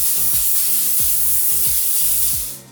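Face mist sprayed from a bottle, producing a continuous close hiss of spray with a few soft low thumps underneath, quiet of any talking.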